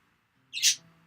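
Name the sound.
birds squawking in the video game Doki Doki Literature Club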